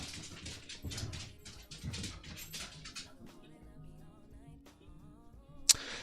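Two dogs, Luna and Bella, at play, giving soft whimpers and small yelps over scuffling noises, fairly quiet and close, with a faint voice in the background and a sharp click near the end.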